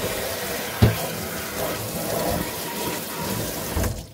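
Tap water runs steadily into a kitchen sink while hen clams are rinsed by hand, a continuous splashing rush with one sharp knock early on and no voices.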